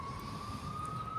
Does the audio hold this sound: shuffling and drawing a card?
no